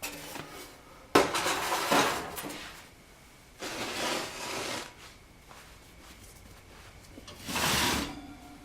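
A heavy lid comes off a baking pot holding sourdough bread, with a sharp clank followed by several scraping, rattling metal-on-pot clatters spaced across the clip and quiet gaps between them.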